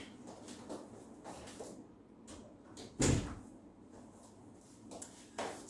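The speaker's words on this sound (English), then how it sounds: "the door is just making a lot of noise" A door knocked about by a strong breeze gives one loud bang partway through, with a couple of fainter knocks toward the end over a steady indoor background.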